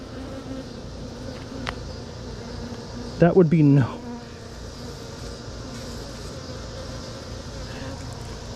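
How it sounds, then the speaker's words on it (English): A bee trapped inside a beekeeping glove gives a loud, close, agitated buzz lasting under a second, with a short spoken remark from a person nearby. "please tell me I got that on before a bee got in there"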